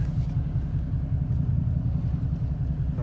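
A Duramax diesel truck fitted with a single 68mm turbo drives along, its deep, steady engine rumble and road drone continuous and close throughout.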